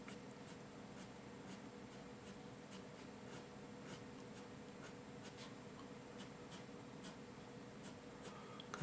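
A pencil sketches hair on paper in soft, quick scratchy strokes, a steady rhythm of light repeated flicks close to the page, faint and alone over quiet background hiss.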